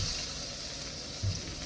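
Rice frying in a pan gives a soft, steady sizzle close by, quiet and continuous, with one brief stir or clatter near the end.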